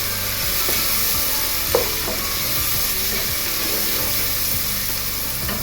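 Chilli powder and salt masala stirred into broccoli pulao in a hot pan, a steady sizzle with soft scraping and occasional spoon knocks, close and continuous without talk.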